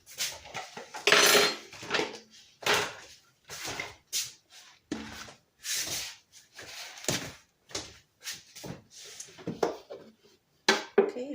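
Ceramic bowls and dishes clink and knock together as they are handled in a kitchen, a quick irregular series of sharp taps and clatters, some louder, with short quiet gaps between.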